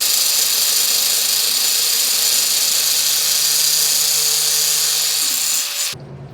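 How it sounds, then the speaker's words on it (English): An angle grinder screams steadily as it cuts a part off a vintage mixer, a loud continuous high whine that stops abruptly near the end. "So we're going to chop this off with a grinder"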